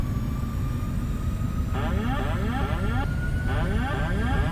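FlightFactor 767-300 freighter jet engines spooling up in X-Plane 12, a steady loud roar with a rising tone and a rhythmic pulsing pattern layered on top, continuous throughout with no talking.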